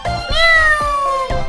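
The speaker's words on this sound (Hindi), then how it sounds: "बे से प्यारी सी बिल्ली। म्याऊ" A cat gives one loud, close, drawn-out meow with a falling pitch, framed by brief soft sounds at either end.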